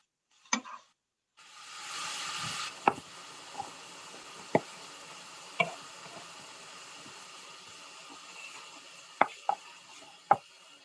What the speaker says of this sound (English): Now we're going to stir this up one more time.